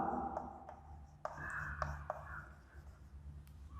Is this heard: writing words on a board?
yes